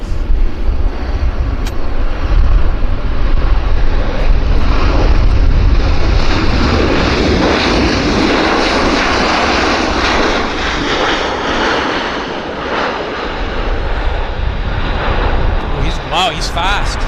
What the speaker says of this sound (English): He landed fast, heavy